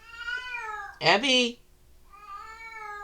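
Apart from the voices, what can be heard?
cat meowing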